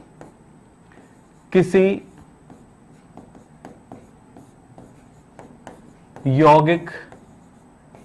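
Writing on a classroom board during a chemistry lesson, light scratchy ticks and strokes repeated through the clip, quiet and close, broken by two short bursts of someone speaking.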